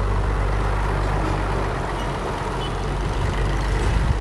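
Heavy trucks rumbling along a road in Cameroon toward Chad, a loud continuous low engine drone with road noise and no pauses.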